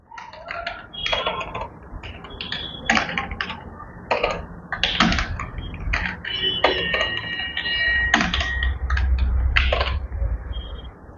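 Quick bursts of taps and clicks rattle off a computer keyboard as an address is typed in, moderately loud over low background hum, with no talking.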